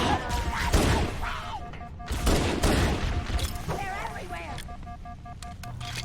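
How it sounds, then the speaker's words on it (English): Bursts of assault rifle and pistol fire in Halo Combat Evolved crack under a person's steady talk, with electronic beeps and tones between the shots. "The strobing lights of assault rifle fire rips apart the elite."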